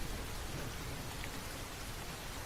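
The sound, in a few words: rain sounds playing as background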